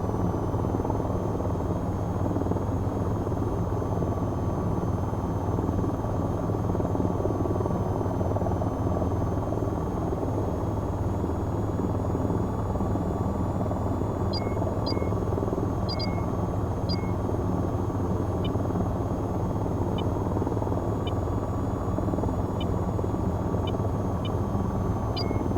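In a video game, a VTOL aircraft's engines drone loudly and steadily with a helicopter-like thrum, joined midway by faint, repeated short electronic beeps.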